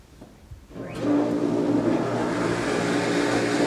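A pump system in a filtration setup starts up as the throttle is turned, going from quiet to a loud, steady mechanical hum and whir that holds without a break.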